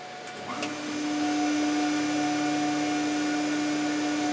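The power unit of a Builtrite Model 1010-SE machine spins up after a brief click, settling into a steady, loud motorized hum with a constant whine that runs alone to the end.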